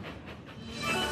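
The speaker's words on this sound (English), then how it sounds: "Harvey went faster and faster as he hurried down the slope with the heavy train pushing him forward" A heavy train rolls downhill as a small engine is pushed faster and faster from behind, a steady rumbling rail noise with a hiss that swells louder toward the end.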